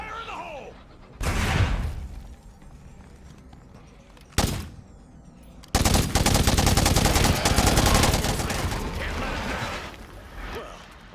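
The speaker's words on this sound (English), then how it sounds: "I'm gonna prep this pipe bomb. Fire in the hole!" A pipe bomb explodes among zombies in State of Decay 2, followed by a long, sustained burst of rapid gunfire; loud, close combat sounds with a few earlier blasts and a voice speaking in between.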